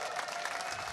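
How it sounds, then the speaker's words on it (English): A crowd at a live event cheers and applauds in a steady, dense wash of clapping and voices that fills the whole second without pause. "you have a whole bunch of people here just cheering"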